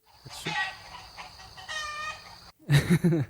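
Chicken clucking and squawking as a sound effect comes in bursts, with a louder, closer run of clucks near the end, heard without talk.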